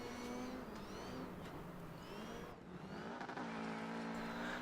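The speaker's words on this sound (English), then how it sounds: "Moving on to a slightly more recent racing game in the form of Dirt Rally." Rally car engine in the racing game Dirt Rally, revving and shifting through gears with rising and falling engine pitch, loud and continuous with gravel and tire noise underneath.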